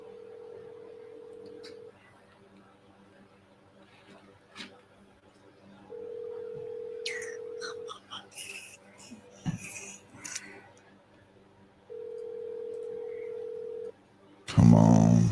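A phone call to a seller rings out as three long, evenly spaced ringback tones with quiet gaps holding faint clicks and rustles, then a sudden loud burst of sound ends it.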